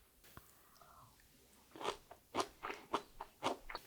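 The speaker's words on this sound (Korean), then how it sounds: "먼저 계란에 무침을 한 시금치를 먹어볼게요." Seasoned spinach tossed with egg being eaten up close, a run of six or seven crisp, moist bites and chews in an uneven rhythm after a quiet start.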